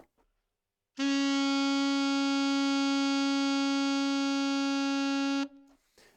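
A single sustained alto saxophone B flat, steady and loud, held for about four and a half seconds with a bright, reedy tone before stopping cleanly.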